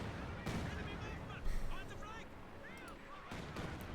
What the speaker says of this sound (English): Rockets flying through the air.